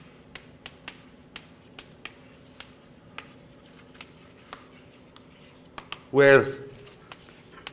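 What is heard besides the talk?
writing vectors on a board during a lecture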